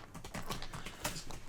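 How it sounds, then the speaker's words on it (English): Fast, steady clatter of computer keyboard typing, close and continuous, with dense overlapping key clicks and no talk. "Wait for Joe to finish typing."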